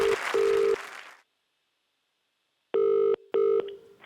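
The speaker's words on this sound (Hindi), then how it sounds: "ये लाइव फोन कॉल किया जा रहा है किसी अनजान को" A telephone tone sounds in short sustained beeps, cuts to silence, then returns as a double ring pattern of two steady tones, clear and close, as a live prank call is placed on a mobile phone.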